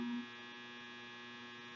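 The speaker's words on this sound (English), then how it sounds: "Sorry, the dryer's going" A clothes dryer runs with a steady, faint electrical hum and a constant drone, an even tone that carries on unchanged throughout with no voices.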